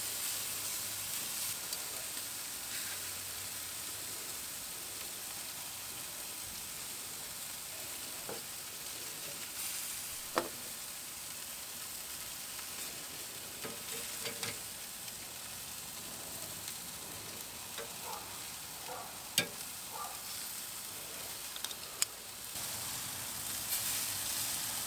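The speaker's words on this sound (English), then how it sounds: "that's all that fat and all that juice dripping down and just steaming back up" Burger fat and juices drip onto the heat of an Oklahoma Joe's Bronco smoker, making a continuous steamy sizzle with scattered pops and crackles over a long stretch.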